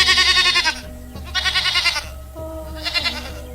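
Several goats bleat in three separate bursts, each a loud, wavering, nasal cry with a short pause between, heard close and clear while the herd grazes in a village setting.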